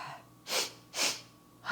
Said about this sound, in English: So we can do a 2-part inhale.